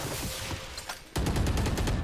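Pistol gunshots in a shooter video game, a faint pop early on, then a sudden loud run of rapid sharp shots firing close together in a steady rhythm.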